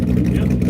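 A car engine running through a 3-inch straight-pipe exhaust with no mufflers, a loud, close, rough low rumble that holds steady for a brief moment.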